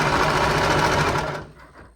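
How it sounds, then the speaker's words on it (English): A serger overlocks the side seams of a romper, whirring fast and steady with a dense buzzing stitch sound that cuts off abruptly near the end, leaving quiet room tone. "we're going to serge all the way down each side"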